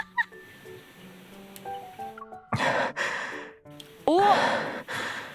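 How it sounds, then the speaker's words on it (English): The character Xavier pants in the video game Love and Deepspace, with quick heavy breaths and gasping sighs in bursts over soft background music, getting louder toward the end. "Okay, you can stop panting now."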